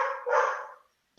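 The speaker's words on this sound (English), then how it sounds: "Damn dog" A dog barks nearby, two quick loud woofs followed by a short sharp yip after a brief silence.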